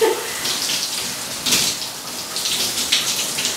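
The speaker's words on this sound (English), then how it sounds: "So I'm just wetting my hair." Shower water runs steadily and close, splashing as hair is wetted, with brief louder bursts where the spray shifts.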